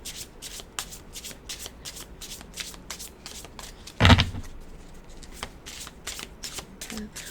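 A deck of cards is shuffled for a card reading in rapid, rhythmic riffling bursts with one louder thump midway, while a voice talks quietly underneath.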